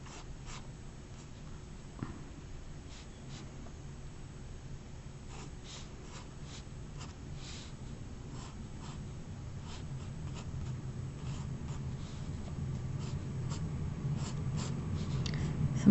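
A pencil sketching wrinkles of a glove on paper, quiet scratchy strokes in short bursts close to the microphone, growing slightly denser toward the end over faint breathing.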